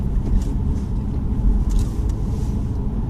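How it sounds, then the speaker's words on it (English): A heavy diesel car crossing a bridge, with a steady, loud low rumble of engine and tyres throughout and faint higher hiss above. "I'm going to drive over it in my rather heavy diesel"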